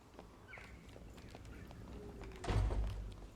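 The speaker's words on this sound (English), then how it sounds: "I think I'm hearing footsteps." Footsteps in the dungeon game Dark and Darker, soft and muffled amid ambient game sound, followed by a louder low thud near the end.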